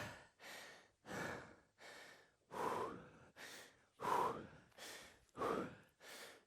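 Repeated deep breaths during a breathing exercise, about nine forceful, rhythmic exhalations and inhalations in quick succession, close and clear with no talking.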